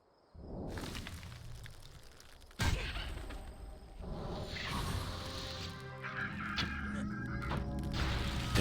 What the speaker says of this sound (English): There's an angry bird.